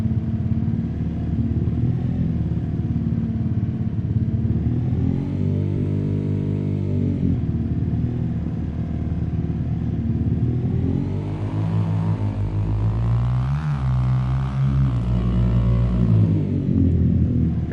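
A 423 International Farmall tractor by International Harvester drives in the Farming Simulator 25 video game, its engine chugging loudly and continuously with rising and falling revs and some clatter throughout.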